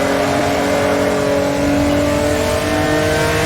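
A race car engine on a track in a racing simulator holds a loud, steady high drone as it accelerates, close and continuous with no speech.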